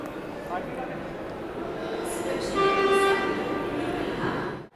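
Navi Mumbai metro train pulling away on its first line, a steady rolling rumble with rising whine and faint tonal hum, heard from inside under a voice talking.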